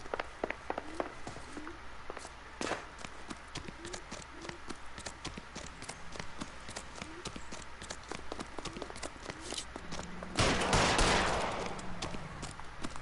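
Gunshots in the L.A. Noire video game: a string of sharp, scattered reports over busy background noise, with a louder blast near the end. Faint voices are heard.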